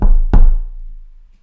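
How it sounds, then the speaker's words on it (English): Two loud, close knocks on wood in quick succession, each a dull thud with a short ringing decay, and no talk. "Knock on wood."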